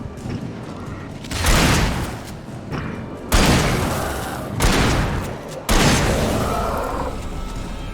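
Pistol gunfire in Alan Wake, several loud booming shots in quick bursts, each trailing into a rumbling decay, with thumps and mechanical clatter between them.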